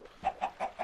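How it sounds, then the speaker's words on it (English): A chicken in a survival video game clucks four times at an even, brisk pace, each cluck short and clear, loud and close with nothing else behind it. "Mr. Chicken right here."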